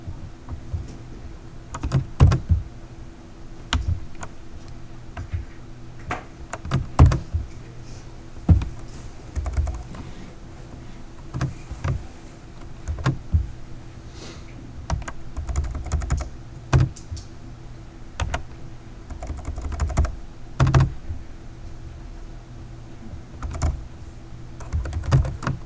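Steady typing on a computer keyboard during a programming lecture: irregular bursts of close, crisp key clicks continue throughout, with a few louder keystrokes standing out.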